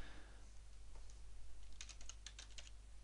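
Keys clatter on a computer keyboard as a title is typed in, a quick uneven burst of clicks over a low steady hum, close by and fairly quiet.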